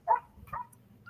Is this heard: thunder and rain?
no